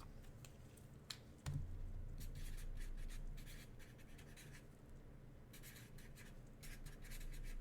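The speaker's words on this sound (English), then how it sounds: "Let me write this down." A pen scratches across paper at a card-breaking table, soft continuous scraping strokes in short bursts over a low steady hum, with one sharp click near the start.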